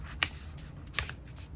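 Sheets of paper are being creased and folded into an F-15 style paper aeroplane, with two sharp crisp folding snaps standing out over a quiet, steady low background.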